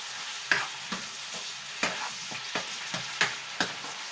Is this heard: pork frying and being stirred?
yes